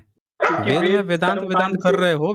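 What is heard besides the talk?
dog barking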